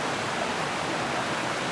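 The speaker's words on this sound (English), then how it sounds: "This is Great Brook, which isn't very big, I know, but it's called Great Brook." Great Brook, a small brook beside a flat green field, rushes steadily with a broad, even wash of flowing water, close and continuous with no voices.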